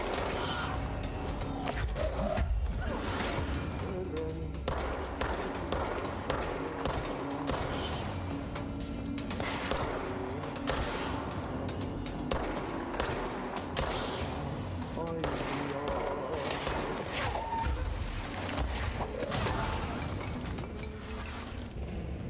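Rapid gunfire from the video game Control rattles through a dense, busy game soundscape, with repeated sharp bursts and mechanical clanks running continuously over a steady background hum.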